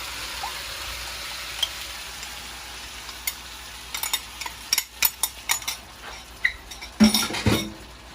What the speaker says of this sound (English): So let's get our sauce in.